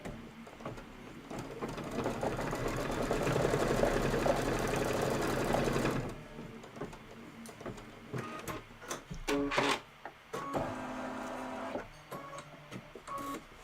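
A sewing machine stitching the tires of a Kimberbell Cup of Cheer project with gray thread: a steady, loud, fast mechanical whir for several seconds, then it stops, followed by intermittent clicks and short bursts of stitching.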